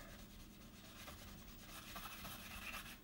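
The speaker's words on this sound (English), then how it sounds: "I've taken that much wax off just by rubbing." A tissue pad rubs steadily back and forth over a wax-coated card, giving a continuous soft, dry scrubbing hiss that stays close and even throughout.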